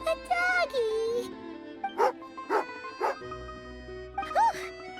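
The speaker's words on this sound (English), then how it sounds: "angry doggy" Game dog in a snowy fort setting gives several sharp angry barks and yips in quick succession, spaced through the clip, alongside a voice speaking and soft background music.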